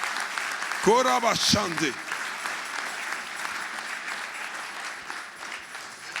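A church audience applauds and cheers in a broad, steady wash of clapping, with a brief spoken call near the start riding over the crowd noise.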